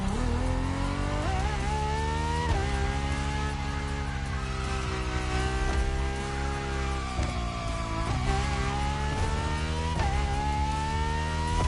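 A Ferrari LaFerrari hybrid V12 in The Crew Motorfest revs hard and steadily, its high-pitched engine note rising and dropping with repeated gear shifts, loud and close with no talk.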